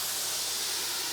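Cognac splashed onto hot smash burgers topped with cheese on a griddle gives off a loud, steady, broadband hiss of sizzling and steam, close up and continuous, with no talking.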